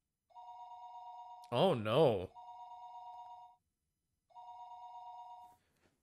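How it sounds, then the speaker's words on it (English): A telephone rings in Higurashi When They Cry, with steady electronic tones in long repeated bursts and a pause between them, while a voice speaks briefly over the first ring. "The phone rang for a third time."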